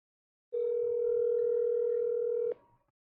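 A steady telephone dial tone on an outgoing call line, sounding alone and loud for about two seconds, then cutting off with a click and a short fading tail.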